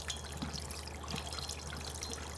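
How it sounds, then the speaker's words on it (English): Tap water runs steadily while hands are rinsed under it, a continuous close trickle and splash with no talking. "So we'll go back to the running water."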